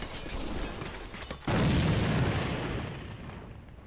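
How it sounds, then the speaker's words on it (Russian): A grenade blast in the online shooter AVA: a sudden loud boom over an already noisy game background, followed by a broad rumbling decay lasting a couple of seconds. "Бросаю гранату."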